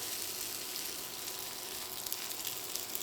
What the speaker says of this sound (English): So I'm actually just gonna put the tofu in just as it is, no oil,